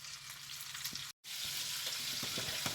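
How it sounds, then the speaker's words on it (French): Food sizzles and fries steadily in a hot pan as it browns and caramelises, a dense close crackle with a brief cut of silence partway through and a few soft stirring knocks. "Là, je les laisse revenir, je vais les faire caraméliser un petit peu"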